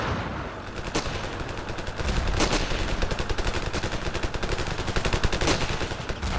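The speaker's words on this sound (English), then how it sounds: "That guy's trying to snipe me, I think." Rapid gunfire crackles through a helicopter combat video game match, with sharp cracks at about 1, 2.4 and 5.5 seconds standing out over a dense, steady stream of shots at moderate loudness.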